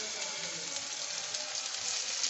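Chopped onions hit a hot pan for a light chicken stew, giving a steady, dense sizzle that holds evenly throughout at moderate loudness, with no talking over it.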